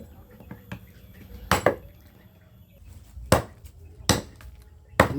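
Heavy blade blows chop through a goat backbone for sate at a Trenggalek stall: four loud, sharp cleaver strikes at irregular intervals, with quieter taps and faint background bustle between them.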